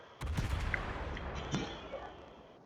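Naval cannon fire and shell impacts from warships in World of Warships, with several distinct booming hits spread over a dense, rumbling battle background, fairly close and loud.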